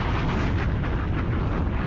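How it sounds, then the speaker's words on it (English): A dense, roaring explosion rumble fills the whole moment at steady loudness, heavy in the low end, with no voices over it. "Let me give you another explosion."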